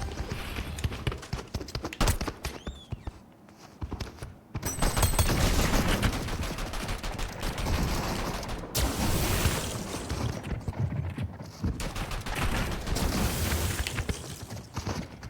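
Rapid video game gunfire rattles in dense, continuous bursts, loud and almost unbroken, with a brief lull before the barrage picks up again.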